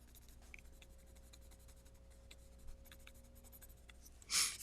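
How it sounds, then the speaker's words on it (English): Close pencil strokes scratching across paper while sketching a face, soft and continuous with brief louder scrapes, low background hum beneath and a sharper rustle near the end. "now I'm just, putting the pressure on the pencil"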